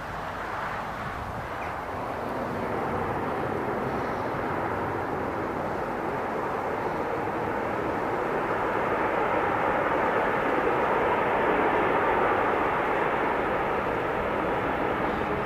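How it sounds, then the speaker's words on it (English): A fixed-wing aircraft lands at Newcastle International Airport, its broad engine roar and rushing noise building over about fifteen seconds and holding loud and steady near the runway, with no voices. "Now that's what you call a landing."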